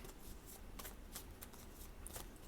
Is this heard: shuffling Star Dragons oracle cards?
yes